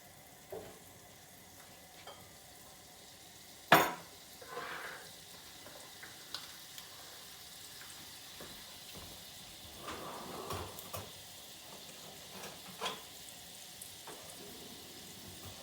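Butter and olive oil heat in a pan, giving a soft, steady sizzle after a sharp clatter, with occasional light scraping and stirring sounds on top of the low frying hiss.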